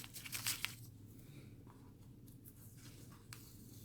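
Dollar-store masking tape peeled slowly off watercolor paper, a crackling, tearing rasp loudest at the start that fades into faint intermittent scratches over low room hum.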